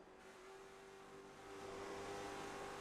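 A race car engine in the iRacing sim is heard on board, a steady high-pitched drone that swells louder after the first second and a half, with no talking.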